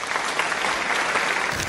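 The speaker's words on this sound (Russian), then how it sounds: "Аплодисменты Артуру" A short burst of steady applause from an audience at a stage production, dense clapping throughout.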